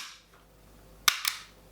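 Two sharp, close shots from an airsoft P99-style pistol firing BBs, a loud crack followed a moment later by a slightly softer second pop, over a quiet room.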